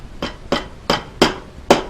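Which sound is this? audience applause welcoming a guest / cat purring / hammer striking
hammer striking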